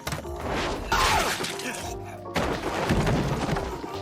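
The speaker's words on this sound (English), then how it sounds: "He smashed a bottle over Fango's head" In an anime scene, a glass bottle smashes over a man's head with a bright shattering crash, followed by a second heavy impact and scattered debris over dramatic background sound, with a voice faintly present.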